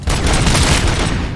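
Dense, continuous gunfire from the Robocop video game, loud and rapid with overlapping shots forming a sustained roar that fades slightly at the end, with no voice over it.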